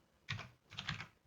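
Two quick bursts of typing on a computer keyboard, a few close, soft key clicks each, with a short pause between them and no talking.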